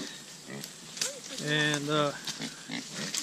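Pigs grunting and oinking on a farm, a few short snorts and a longer grunting call, fairly close, heard under a voice talking.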